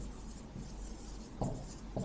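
Chalk or marker scratching across a classroom board as a teacher writes a word, a few short faint strokes with quiet room tone between.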